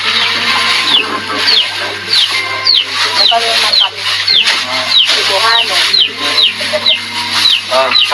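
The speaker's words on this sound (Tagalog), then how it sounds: "Ang sisiw alaga pala ni nanay yan" A pet chick chirping in repeated short, high peeps at a steady pace, fairly close, while people talk over it in the background.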